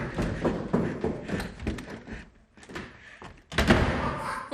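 Stage doors flapping and slamming during a live theatre farce performance, a run of loud thuds and bangs in bursts with a brief lull, then another sharp slam near the end, echoing in a performing arts hall.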